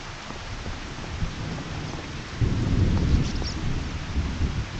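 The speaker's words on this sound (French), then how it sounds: "C'est un plus de la pluie, c'est de l'orage complet." Steady rain with low rumbling thunder in Farming Simulator 25 swells louder partway through, a continuous stormy wash with no voices.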